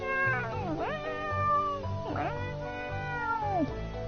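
A cartoonish cat in Stardew Valley meows several times in drawn-out, sliding calls over the steady hum of game music, each meow loud and close.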